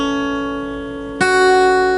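A guitar's low open sixth string, tuned to drop D with a capo at the second fret so it sounds as E, rings on alone; partway through it is plucked again, giving a fresh, brighter attack that sustains to the end.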